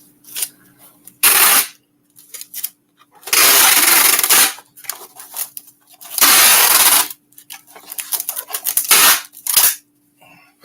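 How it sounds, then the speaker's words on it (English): Packing tape rips off the roll in three loud, harsh screeching bursts with quiet handling between them, sealing a box of PsychoTron books. "I'll run another line of tape down through here"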